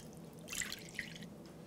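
About 350 g of water pours into a bowl for chocolate bread dough, a short splashy trickle that rises, briefly drops away, and resumes, close by with no talk.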